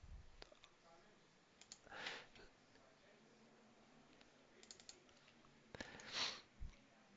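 A computer mouse clicks quietly during a trading session, with a few sharp isolated clicks and short bursts scattered over faint background noise, no speech.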